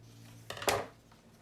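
A short snip of scissors cutting material, one quick crisp closing cut heard close and fairly faint in a quiet room.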